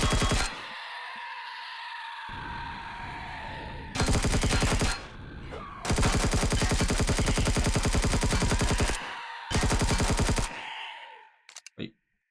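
Loud bursts of rapid automatic gunfire from the video game Empyrion Galactic Survival, several sustained volleys separated by brief pauses, ending with a few sharp single shots.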